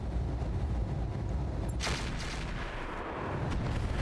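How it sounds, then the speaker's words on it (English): AC-5 autocannon hits in the mech game Battletech Roguetech, a dense rumbling stream of heavy impacts with one sharp, loud burst standing out midway over continuous battle noise. "That was actually really good hits for the AC-5s"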